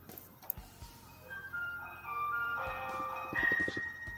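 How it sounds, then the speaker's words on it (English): A doorbell chime rings out in a few clear sustained tones, moderately loud and close, following a sharp knock-like click, with a low room rumble underneath and no talk. "Nice doorbell sound."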